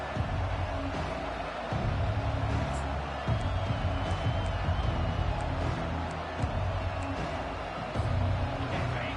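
Stadium crowd at a college football game against TCU, a steady roar of cheering with swelling surges, heard from within the stands with no clear talk over it.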